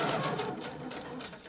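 A sewing machine stitches fabric for a pad, producing a fast, even mechanical whirr close by that eases slightly in the second half.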